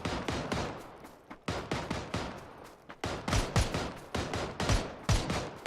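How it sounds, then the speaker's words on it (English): Automatic gunfire rings out in a PUBG match around a rice field, with dense, loud bursts of shots one after another. Volleys repeat with brief gaps, and several heavier reports stand out near the end. "Yo, somebody else is shooting at us."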